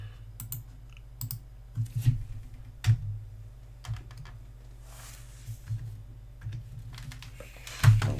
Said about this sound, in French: Vous pouvez la taper directement, et ensuite on tapera le reste